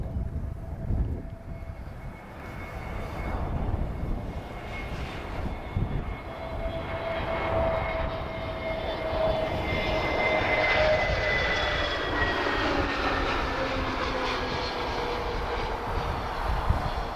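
A TAP Air Portugal Airbus A321neo landing at Lisbon Airport after arriving from Frankfurt, a steady jet engine roar that builds and holds, with a rising whine and a broad rumbling hiss.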